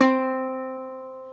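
A single ukulele C string (3rd string) plucked once, ringing clearly with a bright attack and then slowly fading over about a second and a half, heard alone.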